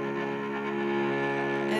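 A cello's low C string bowed on a low C sharp sustains a dense, buzzing, slightly grainy tone, heard close and alone with a steady level throughout.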